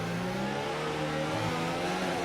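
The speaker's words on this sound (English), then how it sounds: "he's lit out the back tyres" A Formula-style race car in a racing video game at the Spain round spins its rear tyres, the engine note wailing and revving hard in a short, steady burst.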